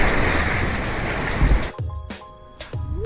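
Rushing water splashes loudly down a waterpark slide at Disney's Blizzard Beach, a steady close wash that suddenly cuts off into quieter drips and brief splashes.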